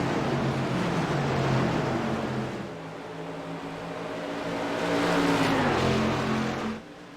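SK Modified race cars roar around New Hampshire Speedway near turn two, a dense, sustained engine drone that dips and swells as the pack passes, with pitch sliding downward late before fading.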